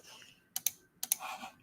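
Computer mouse clicking in two quick double clicks about half a second apart, close and fairly quiet, with a faint murmur of room noise between them.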